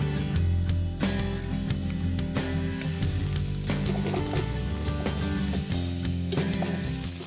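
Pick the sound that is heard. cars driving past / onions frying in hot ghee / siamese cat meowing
onions frying in hot ghee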